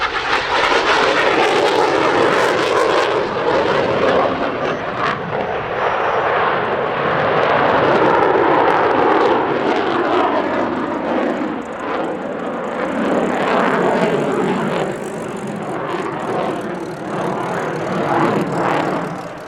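A display jet in a full-colour paint scheme flies at the Quinte International Airshow 2024, its engine roar loud and sustained for about twenty seconds, swelling and easing slightly as it passes.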